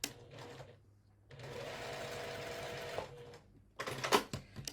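Home sewing machine stitching a seam one thread width to the right of a marked line at a quilt block corner, running steadily for about two seconds between quieter handling sounds and brief fabric rustles, close and clear.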